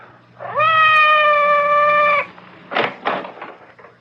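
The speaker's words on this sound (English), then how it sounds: "It sounded like Madame's cat, Francois." Cat meowing outside a door in an old radio mystery drama, one long drawn-out yowl lasting over a second and a half, followed by a few brief rustling thumps.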